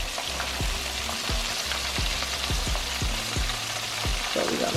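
Mustard-coated chicken deep frying in hot oil, a loud, steady, dense sizzle with crackling bubbles close up and recurring low thumps from the pot underneath.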